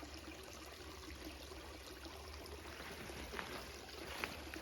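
A creek flowing over shale and sandstone makes a soft, steady trickle of running water, faint and continuous in an open outdoor setting.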